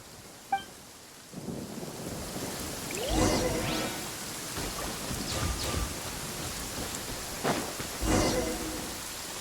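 Rain falls steadily in a Genshin Impact lightning storm, with rolling rumbles of thunder rising and fading at intervals, and a sharp click near the start.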